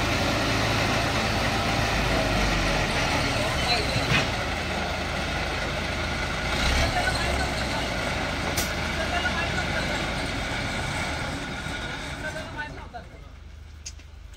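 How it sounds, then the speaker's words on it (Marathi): A road roller runs steadily while compacting a newly laid road, a continuous loud diesel engine drone with heavy low rumble that holds throughout before easing off near the end. "तुम्ही बघू शकता आता हा रोलिंग चालू आहे"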